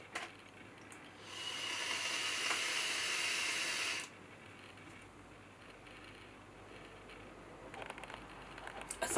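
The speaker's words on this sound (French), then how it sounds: "À 50 watts, on a déjà une grosse production de vapeur, une vapeur plutôt fraîche" A Smok Scar-18 mod with a TFV9 tank and mesh coil, set to 50 watts with the airflow two-thirds open, gives a single steady airy hiss for about three seconds during a draw, then falls quiet.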